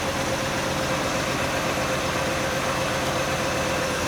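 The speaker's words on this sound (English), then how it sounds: "This thing, I think it's got a misfire or something because it's vibrating hard." A 1962 Corvette engine, cold with fresh oil, running with a misfire and vibrating hard: a loud, steady, close idle rumble that drones on without a break.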